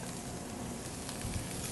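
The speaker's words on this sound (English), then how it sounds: "we're going to saute this for about 10 to 15 minutes" Food sautéing in butter in a pan in a home kitchen: a dense, steady sizzle with a soft crackle, close and continuous throughout the short stretch.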